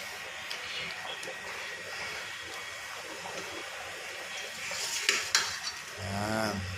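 Mung beans (balatong) being stirred in a cooking pot, with soft scraping and clinking of a utensil against the pot over a low sizzle, building to louder knocks near the end.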